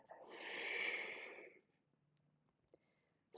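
A single deep, breathy exhale during a dynamic vinyasa yoga and mobility flow: a broad airy rush lasting about a second and a half that fades out, followed by near silence and a faint click, with no talk.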